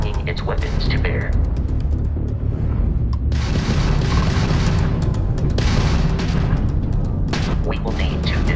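Weapons fire from a hostile Crimson Fleet starship during space combat in Starfield, dense rumbling booms and bursts rolling on steadily, with a voice talking over the barrage.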